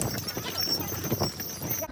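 Donkey hooves clip-clop on stone steps in Santorini, a quick, continuous patter of hoofbeats close by, heard under people chatting.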